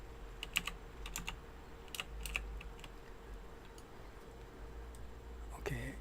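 Fingers tap out short bursts of keystrokes on a computer keyboard, close and fairly soft, with irregular pauses between clusters of clicks and a quiet room hum underneath.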